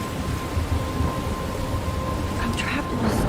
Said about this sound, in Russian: Я попала в бурю.